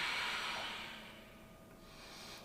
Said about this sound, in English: Take 1 or 2 more big deep breaths